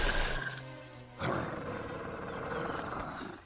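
Cartoon wolf growling, a loud, rough snarl that breaks off, then a second, steadier growl rumbling on for a couple of seconds before fading, with no speech over it.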